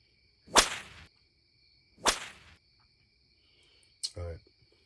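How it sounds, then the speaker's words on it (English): Three sharp slaps ring out one after another, each a crisp crack with a brief tail, set over a steady high electronic whine, with a short voice-like burst at the end. "Give me a slapping sound"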